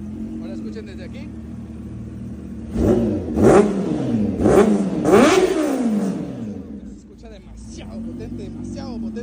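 Kawasaki H2 supercharged motorcycle engine revs hard in several sharp bursts, throttle blips rising and falling in quick succession, loud and close, with someone talking before and after.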